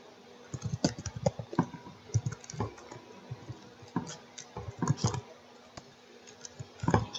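Rapid, uneven keystrokes on a computer keyboard clatter in close bursts with short pauses, a steady run of typing with no voices.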